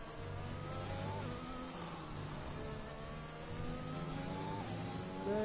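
A pack of Formula 1 race cars in the F1 2021 racing game, several engines whining and shifting pitch together as they accelerate, steady and moderately loud with no talking.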